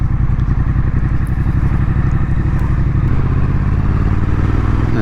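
Triumph Street Twin motorcycle engine pulling hard as it shifts into third gear, a loud, steady low-pitched drone with a rapid pulsing beat that briefly changes pitch partway through, heard close up throughout.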